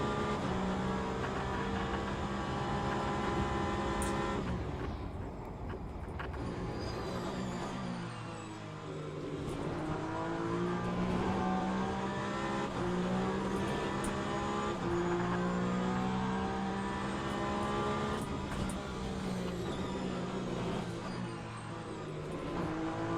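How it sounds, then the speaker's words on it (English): A racing video game car engine revs hard and loud throughout, its pitch climbing and dropping repeatedly with gear changes and stretches of engine braking as revs rise and fall. "you will have quite a lot of engine braking while the revs rise"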